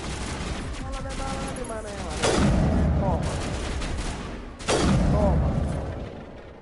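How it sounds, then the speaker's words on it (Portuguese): Loud weapon fire in Mass Effect Legendary Edition, sustained bursts and booming blasts with two heavy surges, while someone speaks briefly over the shooting. "o som dessa arma é muito alto"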